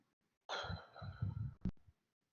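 A long, slow exhale, close and airy, fading gently over about a second and a half with a soft catch of breath near the end, no speech.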